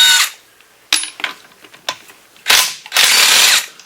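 Ratchet and hand tools working bolts out of a Suzuki Samurai transfer case, heard as several separate bursts of clicking and metallic rattling with short quiet gaps, loudest near the end.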